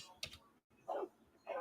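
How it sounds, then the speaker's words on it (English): A dog in the 9Dragons video game gives two short barks that follow a brief clicking sound, quiet and close, with no other sounds around them. "There's the dog."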